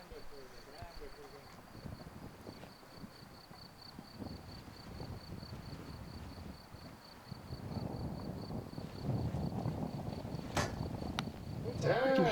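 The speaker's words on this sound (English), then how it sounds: "We can hear the wind, can't we, in the microphones in the stadium there" Wind buffets the microphones in a stadium at an outdoor compound archery World Cup event in Lausanne, giving a steady low rumbling gust noise that swells louder toward the end, with a faint high tone running throughout.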